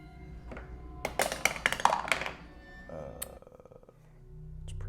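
Dice rolled during a Dungeons & Dragons tabletop game make a quick burst of small, close clattering taps on a table, then fade into quieter room sound.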